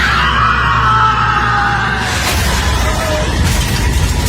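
A man cries out in a horror story, a loud, strained scream that slides downward over about two seconds before giving way to a dramatic noisy rumble.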